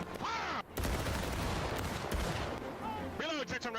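Dense musket volleys crackle in a video game battle, a continuous, rapid rattle of overlapping shots filling the middle, with voices shouting before and after the firing.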